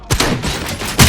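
Gunfire in RoboCop: Rogue City: two loud, close shots, one at the start and another near the end, with a ringing tail between them.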